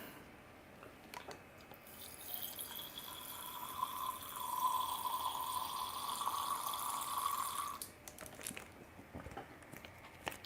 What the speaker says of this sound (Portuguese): tomar mais um golinho da minha água